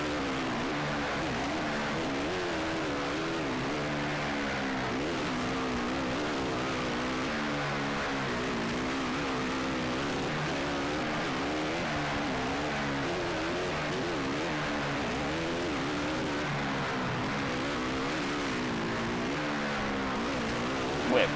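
A racing motorcycle engine at speed, a continuous loud, close whine rising and falling in pitch through gear changes and throttle shifts, steady for the whole stretch, no talking.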